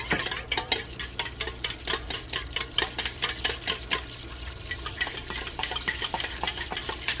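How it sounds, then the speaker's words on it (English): Pumpkin fat bar mixture popping in a pan while being stirred, a rapid regular series of scraping spoon strokes with crackling pops, close and steady, no speech. "One reason I stir it is because of the popping."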